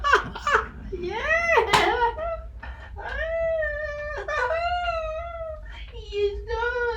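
A cat meows repeatedly and close by, a series of drawn-out, rising and falling cries indoors in a Los Angeles home.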